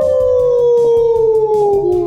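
A voice imitates a wolf howl, one long sustained tone that slowly slides downward in pitch, loud and close, with no other sounds around it.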